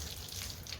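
Water splashing and trickling as an item is rinsed by hand, a short, soft burst of running water heard close up.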